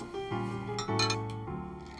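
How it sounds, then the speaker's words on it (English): Ice cubes clinking against glass as Campari is shaken and poured into a martini glass, bright ringing chinks and rattles layered over a sustained tone, close and clear with no talking. "Campari and ice, shaken, not stirred, and quickly poured into a martini glass"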